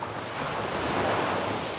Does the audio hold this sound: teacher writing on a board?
no